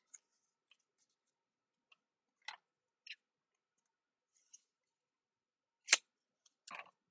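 Scissors snip through paper scraps in a sparse series of crisp, close clicks and short cuts, about eight of them scattered irregularly, with near-silence in between.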